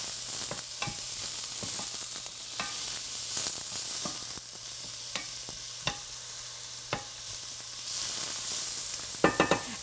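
Beet greens cooking in a hot skillet, a constant close sizzle and crackle with occasional scraping stirs and small clicks from a utensil against the pan.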